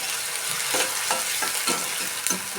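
Onion fries in well-heated oil with a steady hiss and crackle, while a utensil stirs and scrapes the pan in several soft strokes, close by and without talking.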